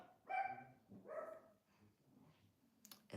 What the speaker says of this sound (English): Don't know why my dog is barking.